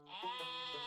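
Giant sheep in the video game Terracards letting out a single close, wavering bleat lasting about a second, clear and alone.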